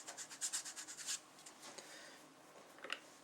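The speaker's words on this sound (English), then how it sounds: "Just rub it in with your finger a little bit." Fingertip rubbing case lube onto a metal ammunition case for reloading, a soft, close rhythmic rasp of quick strokes that then fades into lighter, scattered rubbing.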